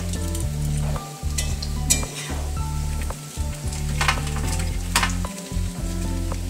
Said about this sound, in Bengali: এখন মা ওগুলো ভাজছে